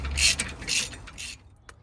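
Cylinder head bolts being done up on a car engine during a rebuild, a few bursts of metallic ratcheting clicks from a socket wrench, close and moderately loud, with pauses between turns.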